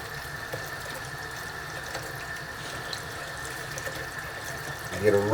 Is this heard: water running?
yes